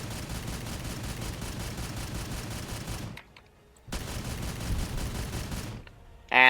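Sustained heavy machine-gun fire in the military shooter Arma 3, with two long, dense bursts of rapid shots separated by a short pause and a sharp sound at the very end.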